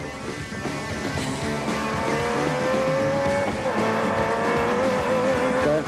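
Nissan Navara race trucks in the Sugarbelt 400 off-road race, loud and close, with a steady engine roar rising and falling in pitch as the vehicles accelerate, and no voices.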